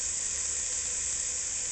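Smoked bacon ends sizzling in a pan, a steady, even hiss that holds unbroken throughout at moderate loudness with no talking.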